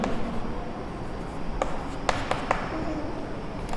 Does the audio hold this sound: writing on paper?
yes